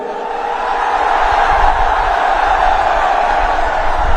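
Huge outdoor crowd at a Mayawati political rally in Uttar Pradesh, a loud, steady roar of massed voices with scattered shouts, continuous and dense throughout.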